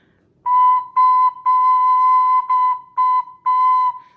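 A pentatonic flute sounds the B note in a series of clear, loud, steady tones, six separate notes of varying length played in a simple rhythm with short gaps between them, with no talking.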